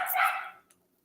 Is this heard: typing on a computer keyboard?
no